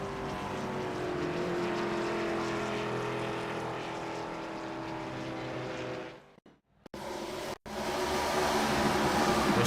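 An ARCA Generation 4 stock car races at the Milwaukee Mile in a racing video game, its engine a steady loud drone that cuts out abruptly twice near the end before surging back.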